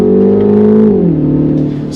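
A 2025 Mini Countryman in sport mode holds a gear with a loud steady engine drone, then downshifts and the pitch drops, the engine settling into a lower hum heard from inside the cabin.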